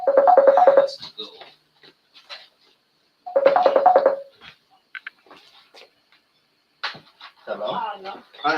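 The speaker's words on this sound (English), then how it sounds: "Is that your phone?" A mobile phone rings with an incoming call, two bursts of a bright, pulsing ringtone a few seconds apart, with people talking and moving nearby between the rings.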